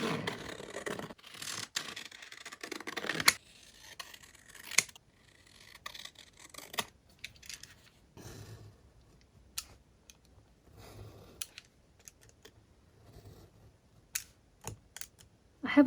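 Scissors snip through paper while cutting out a specimen tag: crisp, close cuts and rustles, dense and rapid at first, then sparser single snips and soft handling noises, with no talking.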